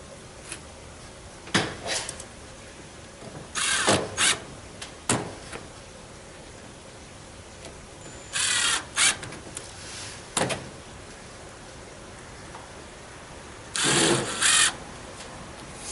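Power drill driving screws into lumber during wall framing, several short whirring bursts of a few seconds each separated by pauses, fairly close and loud.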